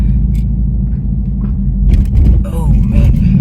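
A V6 sports car engine rumbles past as a low, steady roar that swells briefly mid-clip, with voices talking over it.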